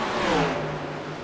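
Stock race cars drone around Charlotte Motor Speedway, a loud, steady engine roar with a slight falling pitch as a car sweeps past.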